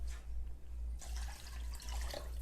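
Filtered water pours into a cooking pot in a home kitchen, a quiet trickle that swells into a brighter, fuller splash partway through, running over a low steady hum.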